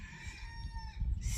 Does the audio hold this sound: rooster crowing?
yes